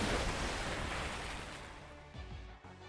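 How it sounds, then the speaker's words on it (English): Loud rushing flow of a chocolate river in Fate/Grand Order, a dense continuous roar like surging water that eases slightly toward the end, with no talk. "Chocolate River's flowing into that hole at a very high speed"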